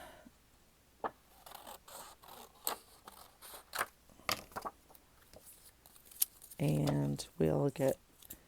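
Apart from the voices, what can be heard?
scissors cutting a strip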